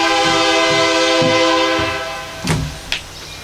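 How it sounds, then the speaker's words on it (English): A train rumbles past nearby with a steady, loud tonal drone and low rhythmic clatter from the wheels, fading slightly toward the end, with a couple of sharp squeaks or clanks near the close. "Watch the train."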